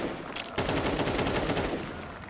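Rapid bursts of gunfire punched through walls in a CS2 match, a Grand Final round in overtime: dense, sustained rattling shots that start lighter and swell into a loud, continuous volley, with no talk over them.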